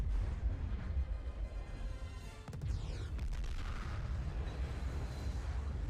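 A loud rumbling blast as a ship is shot down and sinks into the sea in The Clone Wars, a sustained low roar with a sharp crack midway and debris noise trailing off, no talk.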